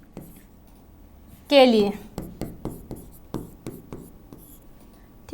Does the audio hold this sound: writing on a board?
yes